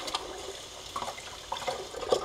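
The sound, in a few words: rinsing sprouts in water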